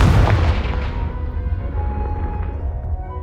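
The Confringo blasting spell explodes in Hogwarts Legacy, a loud booming blast up close that hits at once and then rumbles and fades over a few seconds.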